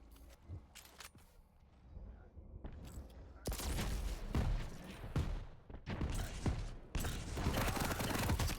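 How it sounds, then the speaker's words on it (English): Rapid weapon fire and explosive rocket blasts in the arena shooter Quake Champions, coming in loud bursts after a quieter start with dense overlapping impacts. "Oh, beautiful rockets there by Carson."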